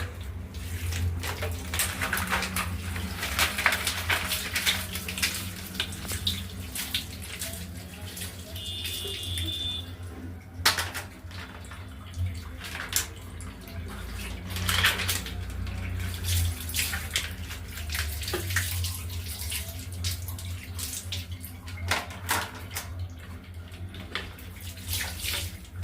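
Pressurized tap water sprays and splashes onto a mesh screen being rinsed clean at home. The rushing hiss runs continuously and close up, with occasional clunks and surges of splashing.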